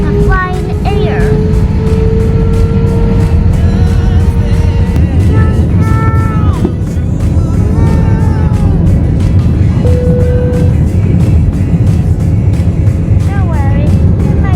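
An airliner accelerates along the runway for a New York flight, heard from inside the cabin as a loud, steady engine roar and rumble that continues throughout, with tonal whines rising and falling over it.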